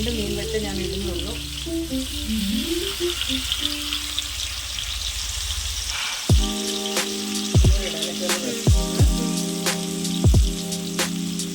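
River fish fry in a pan with only a little oil, giving a continuous crackling sizzle. Music plays over it, with louder tonal notes in the second half.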